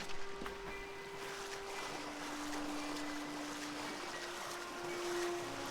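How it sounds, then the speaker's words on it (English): Steady rushing water of a waterfall in the fantasy video game Kingdoms of Amalur: Re-Reckoning, a continuous broadband roar at moderate level with faint game music tones running underneath. "Is this a waterfall we can just jump down?"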